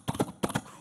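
A man imitates a horse with his voice, two quick rhythmic bursts of clopping, whinny-like sounds, close and fairly loud, with a brief pause between them.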